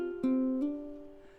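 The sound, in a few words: guitar hammer-on on D note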